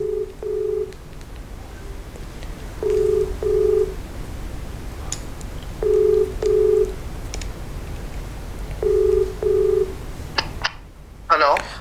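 A phone call being placed to a party spokesperson: a faint line tone sounds in short paired bursts, repeating every few seconds over background hiss, with a brief noise at the end.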